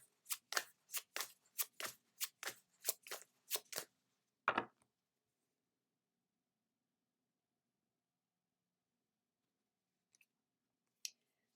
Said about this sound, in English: Then we will pull a card from the Wild Unknown Spirit Animal deck.